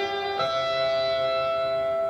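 An electric guitar note slides up to the 12th fret on the G string in a guitar lesson, a sustained tone that glides upward once and then rings on clearly, alone.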